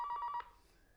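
A telephone rings with a caller on the line: a rapid electronic warble burst lasting under half a second, then cutting off into quiet room tone.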